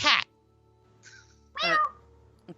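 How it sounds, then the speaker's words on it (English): A cat meows in two short calls, the second longer and louder, amid quiet room tone, with a brief clipped sound at the very start and end. "Where's that cat?"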